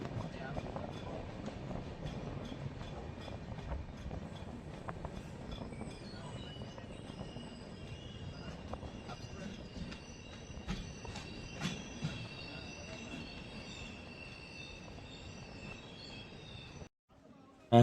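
Godavari SF Express (12728) running from Mahabubabad, heard from inside a sleeper-class coach: steady rumbling wheels and rattling carriage, with metallic squeals and faint clicks over nearly eighteen seconds.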